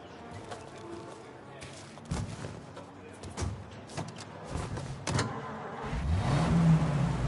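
A car in Mafia Definitive Edition idles and rumbles up close, a few knocks and clunks mixed in, then the engine revs and swells louder near the end.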